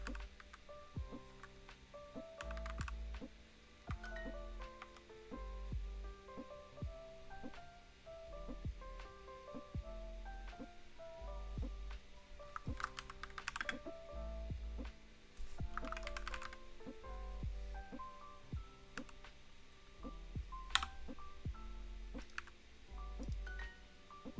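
Computer keyboard keys clicking steadily through a long stretch of typing, irregular bursts of taps with brief pauses, close and clear but quiet, over faint low background tones.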